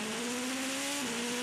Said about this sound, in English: Toyota 7 just coming into Arnage now